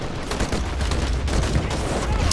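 Rapid, dense bursts of machine gun fire in the video game Call to Arms, shooting through a building in multiplayer, loud and continuous with overlapping shots.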